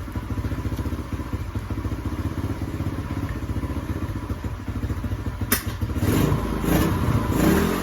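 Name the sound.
gas three-wheeler engine running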